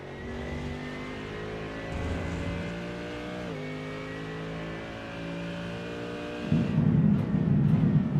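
Mercedes race car in the iRacing sim at Road America, engine droning steadily through the gears down a long straight, with upshifts and a louder, rougher engine note rising near the end; no talk.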